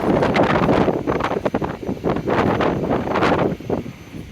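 Strong wind gusting across the open deck of the Royal Caribbean cruise ship Freedom of the Seas, a loud, continuous rushing roar buffeting the microphone with surging peaks, and no one speaking.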